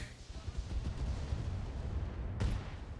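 Weapons fire in the mech combat game RogueTech, rumbling low booms and a sharp blast near the end as a turret is destroyed, faint and distant beneath a continuous battle noise.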